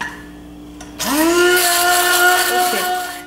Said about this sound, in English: mix this sauce with a stand mixer to have a good emulsion